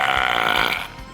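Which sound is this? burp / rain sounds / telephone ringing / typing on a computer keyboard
burp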